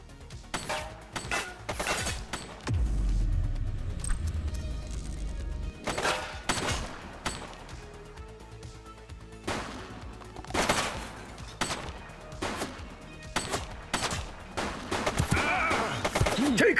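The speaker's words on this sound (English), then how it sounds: "Shots fired!" Bursts of gunfire in The Precinct video game, with sharp shots arriving in irregular clusters and volleys, loud against a low rumbling background, with no talk over them.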